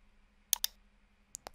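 Computer mouse clicks on a software button: a quick pair of crisp clicks, then another pair a moment later, close and quiet against near silence.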